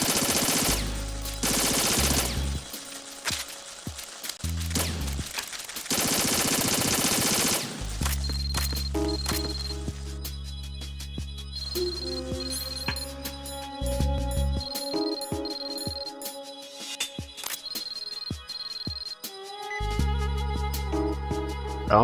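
Video game gunfire in bursts of rapid shots, loud and dense at the start, then dropping to sparser single reports among layered electronic music and sound effects.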